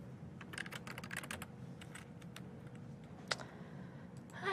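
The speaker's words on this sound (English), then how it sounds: "I'm just having a lot of trouble typing" Typing on a computer keyboard, a run of quiet clicking keystrokes in bursts with short pauses, one sharper key strike near the end, over a low steady background hum.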